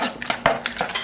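A utensil stirs powdered soy milk into vegetables in a pan, scraping and clinking against the metal in quick irregular strokes, close and fairly loud, with a faint sizzle beneath.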